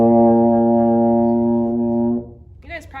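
A baritone horn sustains a single steady B flat, rich and buzzy, for about two seconds before cutting off, followed by a brief spoken voice.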